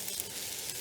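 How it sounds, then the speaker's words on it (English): Chopped garlic sizzling in hot oil in a pan, a steady bright crackling hiss, close and fairly loud, with no talking. "add in our garlic. And we only want our garlic to cook for about 30 seconds"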